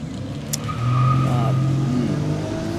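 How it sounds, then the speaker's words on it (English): A car passes along a road near a woodland trail, its engine and tire hum swelling then fading as it goes by, a steady roadside rush heard alone. "there goes more of our traffic out here"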